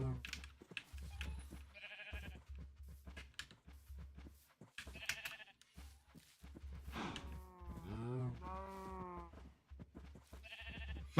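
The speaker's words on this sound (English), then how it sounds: "I picked up a 5th cow, guys" Cows moo and bleat in a peaceful-mode video game, several calls spread across the stretch under frequent loud talking, with one long drawn-out moo near the middle.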